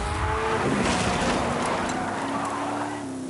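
A trophy truck racing across Baja in Forza Horizon, its engine roaring steadily at high revs with a gradual pitch change, loud and close, easing slightly at the very end.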